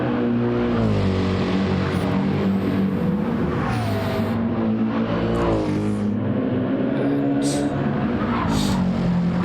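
AMG and BMW race cars in the Gran Turismo 7 video game roar flat out on the Nordschleife, their engines droning loud and continuous with rising and falling pitch as they shift gears side by side.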